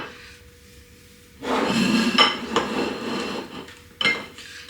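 Vegetarian full English breakfast from an air fryer dished onto plates: clattering dish and utensil clinks, a louder run of scraping and knocking with sharp taps, close and without talk.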